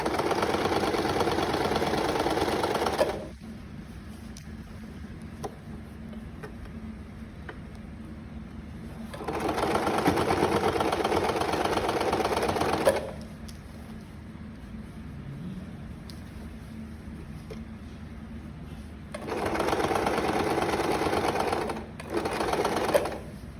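A sewing machine stitches the back of a princess-cut blouse in three separate bursts of fast, even whirring, with quiet pauses between runs and no talking.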